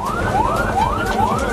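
An ambulance siren wails in repeated rising sweeps, about three cycles, loud and close over steady road rumble.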